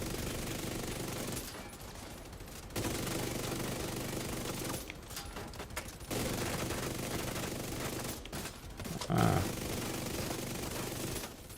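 Steady, faint gunfire from The Division 2 shooter game, with continuous rapid volleys running through the whole stretch, broken by a few brief gaps, and distant combat noise mixed in.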